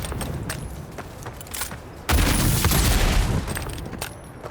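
Loud gunfire in the fantasy video game Avowed, with a dense burst of shots and a booming blast that roars for a couple of seconds among scattered sharp cracks.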